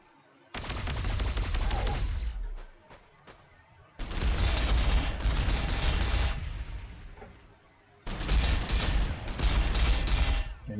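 Ork flash gitz unleash bursts of rapid gunfire in the Warhammer 40,000: Sanctus Reach strategy game, three dense crackling volleys separated by brief lulls, loud and close.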